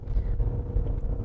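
Low, throaty engine drone from an Alfa Romeo 156 Sportwagon 2.5 under way, a steady deep hum with faint rumbling pulses, heard from inside the moving car.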